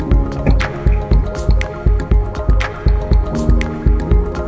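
Raw chicken pieces being washed in water make repeated wet squishing and dripping sounds in a steady rhythm, close and fairly loud, with no talk.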